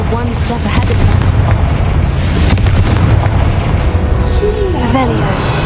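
A Confringo fire spell blasts in the Hogwarts Legacy video game, a dense booming explosion amid steady loud game ambience, with a voice calling out around it.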